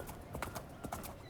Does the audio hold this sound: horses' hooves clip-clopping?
yes